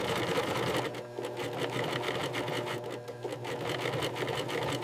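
An industrial sewing machine stitches leather for a briefcase in a factory, a continuous close mechanical whir with a fast rhythmic needle clatter running steadily throughout.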